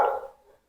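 A single short bark from a female pet dog somewhere in the house, sharp at first and then trailing off within a second, with no talking over it.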